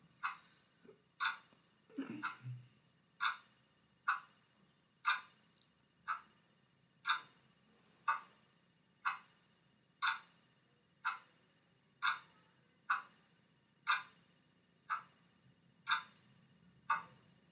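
A clock ticks steadily about once per second, each tick crisp and fairly faint, continuing evenly through the whole stretch with a brief low rustle near the start and a quiet hum beneath.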